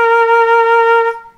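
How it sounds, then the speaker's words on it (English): A flute sounds a single sustained A sharp, steady and clear for about a second before fading out, with no talking. "If you wanna play it on your flute, it would sound like this. So this is A sharp."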